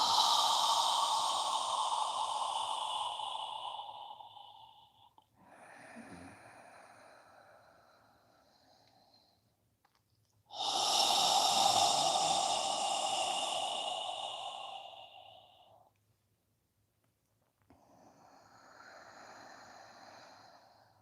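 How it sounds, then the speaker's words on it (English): Slow yoga breathing: long audible inhales and exhales alternating through the nose in a calm, quiet setting, close to the microphone, each breath lasting several seconds with short pauses between. "Inhaling up and exhaling down."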